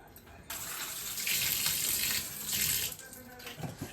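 Tap water runs steadily into a sink as food is rinsed under it, with gushing surges and splashing shifts as the stream hits the food. The sound is quiet and close, with no talking.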